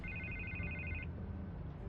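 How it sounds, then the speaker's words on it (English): A phone rings in the Batman: The Telltale Series video game, a steady electronic ring tone repeating for about a second under a low background hum, then stopping. "I can't get the phone to stop ringing."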